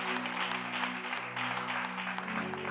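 Church congregation clapping steadily together for about three seconds, a dense and fairly loud round of applause with a low tonal hum underneath.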